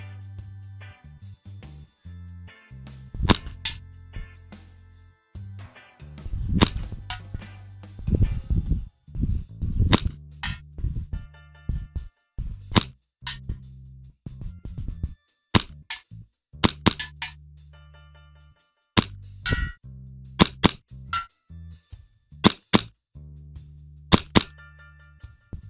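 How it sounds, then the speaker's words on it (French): Hi-Capa 'Star' full-custom, fully upgraded airsoft pistol firing at 20 cm targets: a long string of sharp, close snaps and clacks, single and in quick pairs, with some hits ringing faintly, low hum underneath. "Là je tire sur des cibles de 20 cm."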